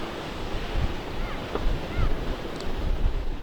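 Steady roar of heavy ocean surf breaking on the North Carolina shore during a storm, with wind buffeting the microphone and continuous churning water, no voices.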